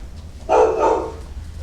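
A dog at a community meeting gives a single short, fairly loud bark-like yelp, alone against a quiet room background.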